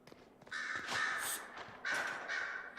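Several crows caw in Dragon Age: Inquisition, two loud clusters of harsh, grating calls separated by a short lull, close and prominent with nothing else over them.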